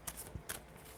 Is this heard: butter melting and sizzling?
no